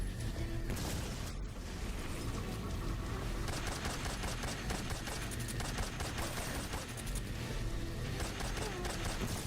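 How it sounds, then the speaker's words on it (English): Sustained gunfire crackles in Metal Gear Solid 3, with dense repeated shots and chaotic battle noise filling the whole stretch. "I don't have to shoot these guys. I'm shooting them because I want to."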